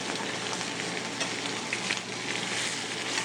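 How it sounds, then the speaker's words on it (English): Squab sears skin side down in a hot pan, a loud, steady, dense sizzle with scattered little pops close by. "Now the squab is seared. Skin side down first."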